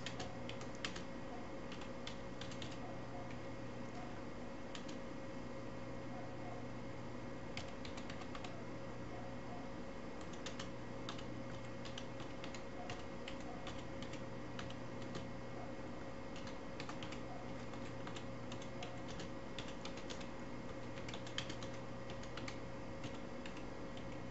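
Fingers type a description on a computer keyboard, producing faint, irregular clicks and taps in short bursts over a quiet hum, with no one speaking.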